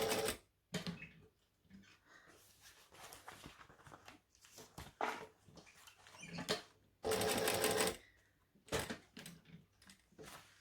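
A sewing machine stitches in short stop-start bursts, forward and back with pivots, close and fairly quiet, the longest run lasting about a second amid handling noises.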